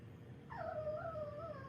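A dog whimpers in a single high, wavering whine that rises and then slowly falls, fairly close and clear over a low background hum.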